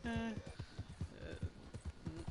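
Horse hooves clip-clopping in Red Dead Redemption 2, a steady run of close, evenly spaced thuds under a voice talking.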